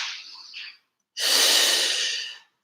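A long, breathy exhale during a Pilates side-body stretch in a home workout, close and clear, following a shorter, softer breath and a brief pause.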